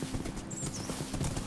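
A horse's hooves clip-clop in a steady, rapid rhythm in Minecraft. The game sound is fairly loud and continuous, with a faint high tone briefly above it.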